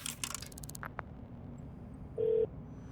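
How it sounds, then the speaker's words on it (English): A telephone number dialed in a Minecraft video game: a few short clicks, then a single steady electronic tone lasting about a quarter second over a faint background hum. "I picked up the telephone and I dialed 827-3877."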